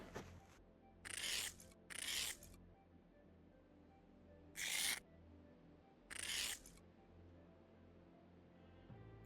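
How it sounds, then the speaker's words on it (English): Four short, bright scraping strokes of ice being scraped off a car windshield in a video game, each about half a second, spaced irregularly with quiet gaps between them, close and crisp. "I'm gonna take a second to scrape this damn window"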